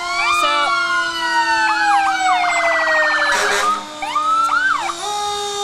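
Pere Marquette Fire Department fire truck siren in a parade, a loud nearby electronic wail sweeping up and down with yelp and whoop patterns, plus a brief honk burst partway through, no talking.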